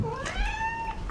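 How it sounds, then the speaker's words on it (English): A pet cat at home meows once near the microphone, a rising then sustained clear cry lasting about a second, with no talking over it. "There's the cat."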